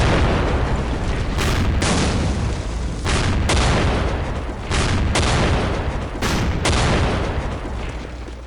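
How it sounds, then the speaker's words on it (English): Anti-tank guns fire repeatedly in a WWII West Front strategy game, loud booming blasts in an irregular series of several shots over sustained rumbling battle noise. "we'll take these AT guns and shoot these targets at close range"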